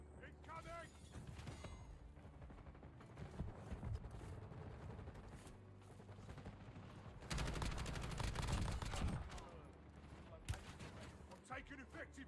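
Video game gunfire in a military shooter, bursts of automatic fire and clanking mechanical sounds, heaviest in a dense loud stretch partway through, with voices heard faintly.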